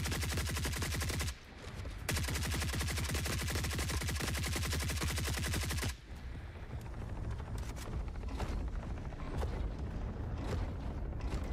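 Sustained minigun fire from the interior gun of a medium mech in the shooter Forever Winter, a dense rapid buzzing rattle that drops out briefly, then resumes rougher and more broken amid heavy battle noise.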